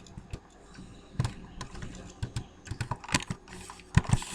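Rapid keystrokes on a computer keyboard, an uneven run of close, crisp taps that speeds up toward the end, heard alone without talk.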